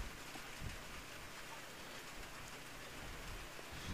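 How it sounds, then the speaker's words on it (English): Steady rain falls at a Goffstown High School football game, a dense, even hiss that holds constant with no breaks and only faint low rumble beneath, with no voices standing out. "So it's a steady rain here at Goffstown High School"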